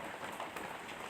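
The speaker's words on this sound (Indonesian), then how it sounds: "mohon maaf kalau suara videonya agak berisik ya karena di sini sedang hujan" Steady rain falling outdoors, a continuous dense hiss of drops hitting surfaces at moderate loudness with no voices.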